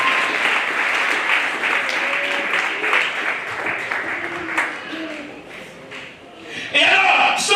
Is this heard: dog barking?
no